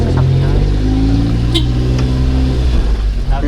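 A car's engine idles and hums close by as it is moved outside a house, a low steady drone with slight rises in revving, while people talk over it.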